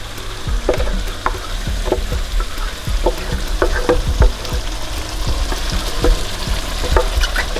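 Pepper is stirred into hot oil for pepper snail escargot, and a steady close sizzle and crackle of frying runs under repeated scraping and clinking stir strokes.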